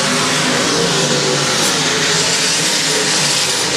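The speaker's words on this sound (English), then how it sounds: "Drag race down the back straightaway for the top spot." Race cars roaring down the back straightaway at I-35 Speedway, a loud continuous blare of several engines at full throttle, close and unbroken for the whole stretch.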